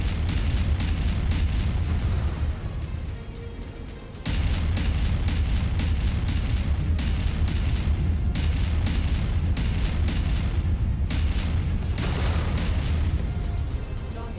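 A mech blowing up in MechWarrior 5 combat, with heavy booming blasts and deep rumble rolling almost continuously, easing briefly before surging back to full loudness.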